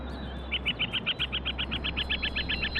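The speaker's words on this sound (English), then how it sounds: "Herons, ibises, spoonbills and storks fill the sky with white wings and harsh cries." Herons, ibises, spoonbills and storks calling in a regular series of about fifteen sharp, evenly spaced cries, moderately close, over a steady low rumble of background noise.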